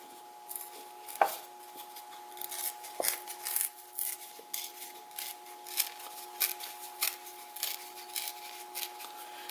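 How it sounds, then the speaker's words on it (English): Paper being torn by hand to make rough, torn edges, heard as a series of short, quiet ripping and rubbing strokes repeated back and forth in an irregular rhythm, close up, over a faint steady tone. "So I'm just kind of eyeballing how much I need to tear off."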